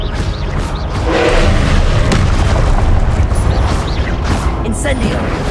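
An Expelliarmus spell strikes in the Hogwarts Legacy video game with loud booming impacts and repeated whooshing bursts over a heavy rumbling bed, and a voice is heard among the blasts.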